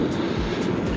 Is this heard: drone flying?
yes